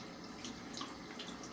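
Water runs from a tap to pre-warm for shaving, producing a soft, steady hiss that stays faint and continuous throughout.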